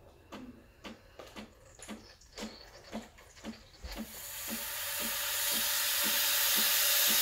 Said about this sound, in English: Steam is relatively simple. You just turn it on and it'll start steaming in a few seconds.